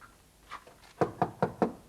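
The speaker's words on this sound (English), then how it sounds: "But it says here she knocks on the door." Four crisp, evenly spaced knocks on a door, close and alone, after a couple of softer taps.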